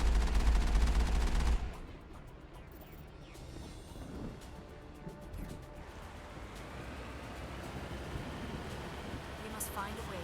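Gunfire in the Mass Effect video game: a loud dense burst of shots in the opening second and a half, then a quieter rumbling battle ambience with scattered crackles and distant impacts.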